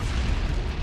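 Artillery barrage in the Halo Wars real-time strategy game, a dense, continuous low rumble of overlapping explosions at steady loudness, booms blending into one another with no gaps or speech.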